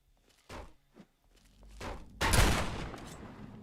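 Gunfire from the video game Fallout 3 (Point Lookout) comes as a couple of sharp, close bangs, then a heavier burst that rings out and decays, set against quiet game ambience.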